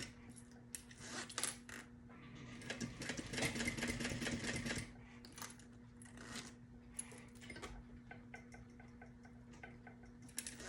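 A sewing machine stitches a canvas convertible tote bag in bursts of rapid mechanical clatter, one long fast run in the middle, then slower single stitches and clicks over a constant motor hum, close by.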